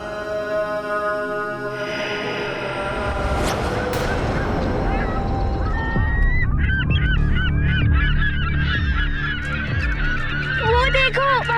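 Geese honk loudly in a large flock, layered calls overlapping continuously and growing denser and closer as the sound goes on, with a low rumble underneath.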